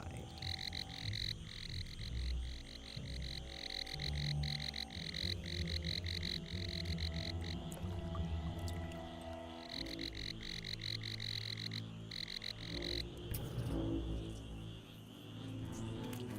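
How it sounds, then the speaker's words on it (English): A Pinewoods tree frog calls in the ant strategy game Empires of the Undergrowth, with steady, rapid repeated croaks over a layered game soundscape, no voices. "A Pinewoods tree frog, Gila femoralis, has wandered into the trail."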